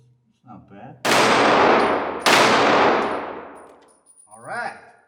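Two loud, sharp shots from a Heckler & Koch VP9 pistol fired at a range target, each with a ringing decay, framed by brief quiet voices before and after.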